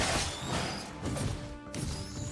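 Crystal shattering in the video game Risk of Rain 2, a dense crashing burst amid busy game noise, with a second impact near the end, all fairly loud and continuous.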